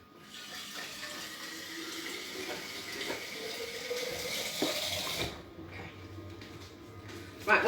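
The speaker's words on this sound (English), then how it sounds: "we'll go near the sink, so we'll fill it with a jug of water" Water runs from a kitchen sink tap into a jug, a continuous splashing flow that builds and then stops abruptly, followed by quieter trickles and a clunk, with someone talking faintly.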